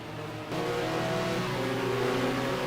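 A Ferrari 550 GT race car engine in a racing game, roaring loud and close with a sharp jump in revs early on, then holding a steady, harmonic-rich drone alone without talk.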